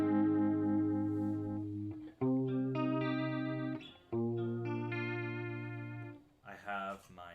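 Sustained synth tones run through a chorus effect pedal during live techno playing, thick shimmering chords held for seconds at a time with brief breaks, a voice briefly audible near the end.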